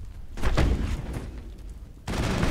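Assault rifle fire in the Mass Effect video game: dense bursts of rapid shots with booming impacts, a loud volley early, a brief lull, then another burst resuming near the end.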